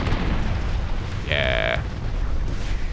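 Rapid weapon fire from spaceships in the space combat game Starsector, a dense steady barrage of booms and pops that runs throughout, with one brief bright electronic tone partway through.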